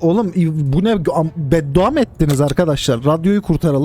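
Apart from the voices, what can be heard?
No everyday noises stand out.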